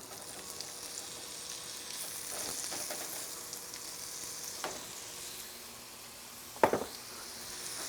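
Peeled, chopped apple and fresh ginger sizzle in a hot pan, a steady close frying hiss with a few stirring scrapes and one sharp clack near the end.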